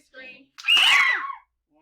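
A group of children screaming together during a circle-time rowing song, a loud burst lasting about three quarters of a second after a brief quieter vocal sound.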